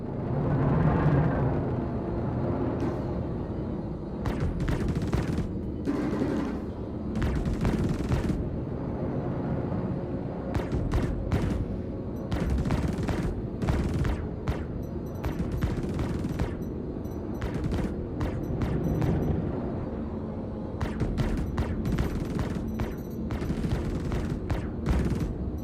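Ship weapons in Star Citizen firing in rapid clustered bursts of sharp, loud shots, separated by short pauses, over a steady low engine-like rumble that runs throughout.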